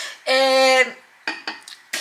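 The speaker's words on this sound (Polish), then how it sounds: "Ja będę właśnie spieniała mleko." Milk being frothed with the steam wand of a new home espresso machine, a loud steady hiss with a tonal whine lasting about half a second, followed by several short clinks and knocks.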